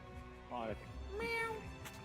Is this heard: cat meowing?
yes